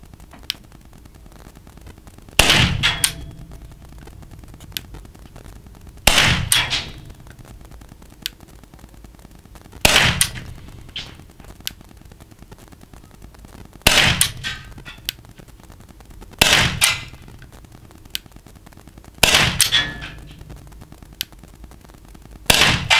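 Walther PDP .43 T4E Umarex rubber-ball pistol firing at a 9-metre target, sharp loud cracks spaced several seconds apart, six shots with quiet room hum between them.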